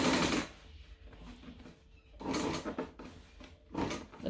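A sewing machine top stitching a bag runs in bursts of rapid mechanical whirring and clatter, separated by short pauses with small handling clicks, close and moderately loud.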